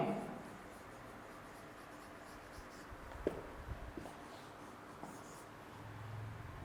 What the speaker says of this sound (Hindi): हम लिखेंगे यहां डिस्कवर्ड बाय